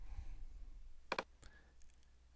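A quick double click of a computer mouse, close and crisp in a quiet room, followed by one fainter single click.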